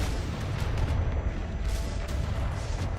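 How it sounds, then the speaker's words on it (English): Dense, continuous booming barrage of quantum cannons firing at will in a game battle, loud and sustained low rumble with overlapping blasts throughout, no talk. "Quantum cannons lock onto 30 meters around the kid and fire at will."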